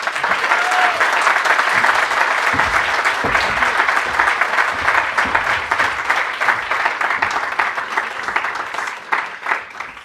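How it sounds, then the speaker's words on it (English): A large audience applauds a distinguished guest speaker at the Hertie School in Berlin, giving dense, sustained clapping that fills the hall for the full ten seconds and tapers only slightly near the end. "please join me in giving a warm round of applause to our distinguished guest speaker, Mr. Rahul Gandhi."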